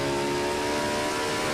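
A stock car engine in a racing video game screams at high RPM on a short oval track, a loud, sustained, steady whine held for the whole moment with no talking.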